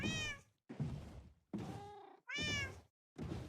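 A pet cat meows five times, close and clear, each call a drawn-out wavering cry with short silent gaps between them.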